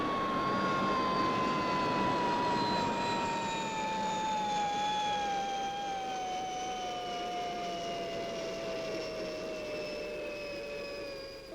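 Fireball XL5 spaceship's downward-thrust retro rockets firing for a landing on Venus: a steady loud roaring rush with a high descending whine that slowly falls in pitch throughout, continuous and close, ending abruptly.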